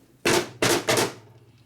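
Three sharp, loud hammer blows, the second and third close together, knock the engine case of a 1967 74ci Harley shovelhead off its dowel pins during a motor rebuild, each strike ringing briefly in a quiet shop.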